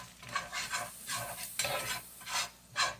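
Pancake flour being stirred into hot frying oil with leftover sausage bits, a spoon scraping rhythmically through the pan in repeated strokes over a soft sizzle, close and steady with no talking.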